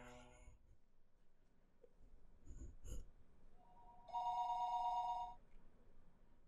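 A telephone rings in the Higurashi: When They Cry video game, a late-night call heard as one short, bright electronic ring burst. Quieter game sounds and soft noises surround it.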